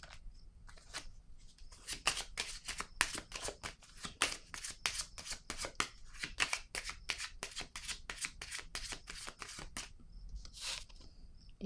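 Cards laid down one after another at a French-language card reading, a rapid run of crisp papery slaps and riffles, close and fairly loud, with brief pauses near the start and end.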